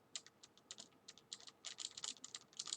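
Quick bursts of keystrokes on a computer keyboard as a command is entered into a network switch, close and fairly soft, in irregular clusters with short pauses.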